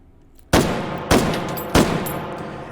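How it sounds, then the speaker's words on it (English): Three sharp rifle shots ring out in the video game H3VR, evenly spaced about half a second apart, loud and close with short decaying tails after each. "We can fire the first couple shots."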